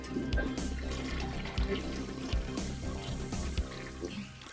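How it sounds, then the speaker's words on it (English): A toilet flushes as a sound effect, a loud rushing swirl of water lasting several seconds with gurgling pulses and draining noise, heard alone without speech. "Flushing noises, the fucking glass, the whole nine."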